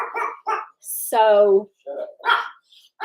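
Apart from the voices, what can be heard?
dog barking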